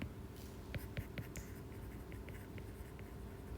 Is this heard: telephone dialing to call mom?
no